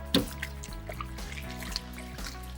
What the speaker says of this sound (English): I'm just going to put the water in there, and you can see all the dust coming out